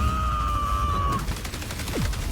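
Assault rifle fire in the video game The Outer Worlds crackles as a steady burst of rapid shots over dense game noise, with a high tone fading out partway and a falling whoosh near the end.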